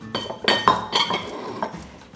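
Several very small beets dropped into a cooking pot for a vegetable stew, a quick run of hard clinks and clunks against the pot, close and distinct.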